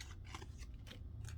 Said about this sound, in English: you can take your scissors and trim those out